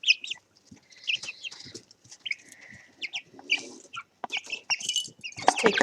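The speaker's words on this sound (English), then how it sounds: "They kind of are starting to cluck when they have something to eat." Young chickens clucking and chirping close by as they eat, in short irregular bursts of calls with brief quiet gaps between them.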